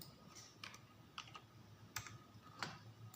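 Quiet computer keyboard typing while a date is entered into an Excel spreadsheet, a few light, separate key clicks spaced irregularly over faint room hiss.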